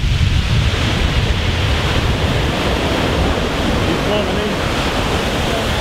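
Sea waves break and surge onto the shingle of Chesil Beach, a loud, continuous roar of surf with wind buffeting the microphone.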